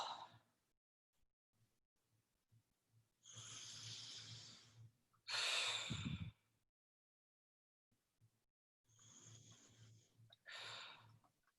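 Several long breathy exhalations during a breathing exercise, each a soft rushing breath of one to two seconds, with quiet pauses between; one is stronger and noisier, close to the listener.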